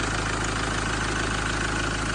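A Land Rover Defender 110 with a 2.4 Puma TDCi diesel idles steadily under the open bonnet, a loud, close, even diesel clatter and rumble throughout with no voices.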